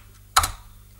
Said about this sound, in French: quand tu appuies sur le A, ça fait bien un A et pas un Q